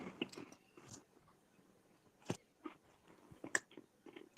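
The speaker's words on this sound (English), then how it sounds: "Sorry, I'm chewing." Close, quiet chewing and biting of food, with soft crunches and wet squishes in irregular bursts separated by near-silent gaps.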